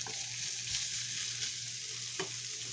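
Kielbasa sizzles steadily in a hot pan as it is stirred, a continuous close frying hiss broken by a few soft scrapes and knocks of the spoon.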